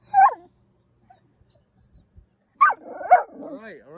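Winnie, a dog with two different-colored eyes, gives a sharp yip-like bark, falls silent, then lets out several more close, loud barks that trail into whimpering whines.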